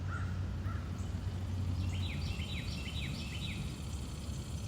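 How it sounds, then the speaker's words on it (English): A crow caws several times close by outdoors during a walking meditation, its harsh calls standing out over a steady low hum and insect-like background. "That's a crow right now"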